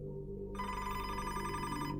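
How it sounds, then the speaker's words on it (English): An office telephone rings with a steady electronic bell tone, close and continuous for about a second and a half. A low room hum runs underneath, and no one speaks. "the office phone rang"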